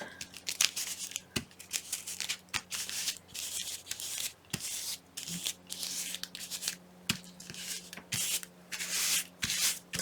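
Scissors snipping through a paper napkin for a handmade Christmas card, a string of quick crisp cuts with light paper rustling between them, close and alone.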